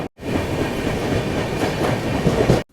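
Mumbai–Howrah Duronto Express rolling through Jharsuguda Junction without stopping, a steady loud rumble with rhythmic clickety-clack of wheels over rail joints, heard from inside the coach and cutting off abruptly at the end.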